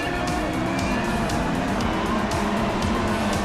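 Formula 1 cars racing side by side at Singapore in the F1 2016 video game, a dense continuous engine roar with layered whines from several cars at steady high volume.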